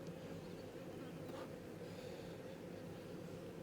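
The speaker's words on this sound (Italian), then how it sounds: "la regina esce ed entra in mezzo alle sue api" Honey bees in an open hive crowd around their queen, giving a steady, close, continuous low buzzing hum that stays even throughout, with no voices.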